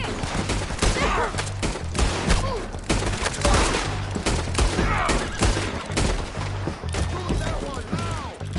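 Dense gunfire from a Red Dead Redemption 2 shootout, with rapid overlapping shots and heavy thumps continuing throughout, loud and close, while voices shout over the battle.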